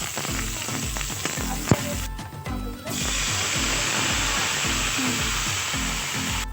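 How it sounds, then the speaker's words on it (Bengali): Onion sputtering in hot oil with a bay leaf, a dried chili and panch phoron, loud and continuous, with a regular scraping beat of stirring and a brief hiss break partway through. "সাথে একটা তেজপাতা, একটা শুকনো লঙ্কা আর পরিমাণ মতো পাঁচ ফোড়ন আর অল্প পরিমাণ পেঁয়াজ দিলাম, দিয়ে ভালোভাবে লাল করে ভেজে নেব।"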